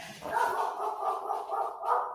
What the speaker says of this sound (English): Damn, what kind of dog you got?